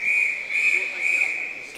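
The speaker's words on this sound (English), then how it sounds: "The whistle goes and we're just about ready for the off." A steady, shrill referee's whistle blows at the start of a swimming championship final at an indoor pool, sustained for nearly two seconds with faint announcer talk beneath it.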